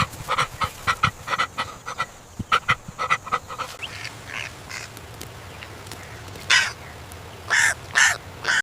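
Crows cawing harshly near a fish carcass in green wetlands, a rapid run of repeated calls at first, then scattered louder caws, close and clear with no talking.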